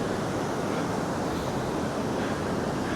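Ocean surf rolling in at a beach where a lone surfer is out, a steady, fairly faint wash of breaking waves with no distinct individual crashes.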